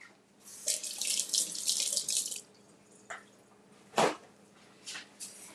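Kitchen tap water running over a green onion being rinsed, a splashing stream for a couple of seconds, then shorter gushes and a sharp splash as the flow is turned on and off.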